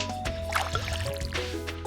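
A watering can is refilled with water in the farming game Stardew Valley, making a short liquid gurgle and splash over steady game background music.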